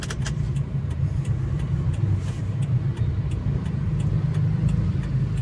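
Idling and creeping cars queue in a traffic jam at the Park Serpong entrance gate, producing a loud, unbroken low engine rumble and road drone with faint ticking above it.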